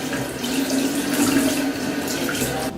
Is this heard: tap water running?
yes